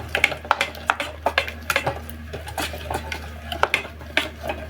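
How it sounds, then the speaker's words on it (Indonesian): A spoon stirring sweet and sour tomato sauce for dory fish in a pan, quick repeated clinks and scrapes against the metal in an uneven rhythm, close and fairly loud. "Kalau sudah kita aduk di sini, kita aduk ya, kita aduk."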